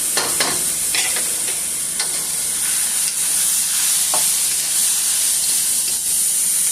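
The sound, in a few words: spaghetti sauce sizzling as it cooks down in pan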